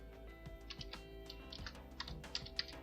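Typing on a computer keyboard to enter text in GIMP: a steady string of light clicks over a low background hum, close and quiet, with no voices.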